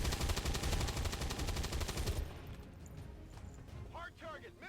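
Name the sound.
gunner taking a shot in XCOM 2 video game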